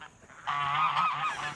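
Pet geese near their owner, who lies on the ground faking a collapse, give a loud, sustained nasal honk that rises and holds at close range with no talk.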